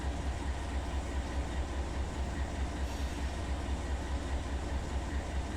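A very long intermodal freight train rolls along in Run 8 Train Simulator, giving a steady rumble and wheel clatter that stays constant and moderately loud with no talk.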